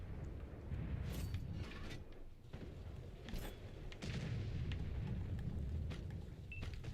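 Low booming tank cannon shots and rumbling battlefield noise from a tank video game, steady and fairly muffled, with a few sharper reports standing out above a continuous low roar.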